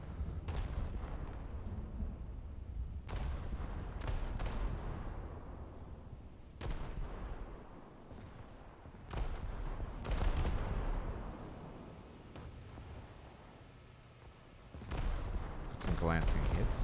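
Naval ship guns fire in a realistic US Navy versus Imperial Japanese Navy battle game, heavy booming shots at irregular intervals, each with a rolling rumble and fading tail, over continuous low background noise.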